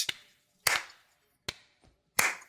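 Four sharp, separate claps ring out, close and unevenly spaced, each one followed by a brief decay.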